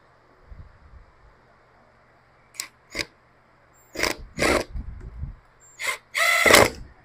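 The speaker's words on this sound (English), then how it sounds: "We're going to put the screwdriver in." Brief bursts of a power screwdriver spin up as a screw is driven into a wheelchair wheel, with short whirring pulses followed by a longer final run, loud and close in an otherwise quiet room.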